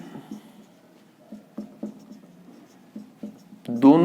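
Writing on a board during a lecture on unitary and projection operators: soft, close, irregular taps and strokes in a quiet room, ending with a brief burst of voice.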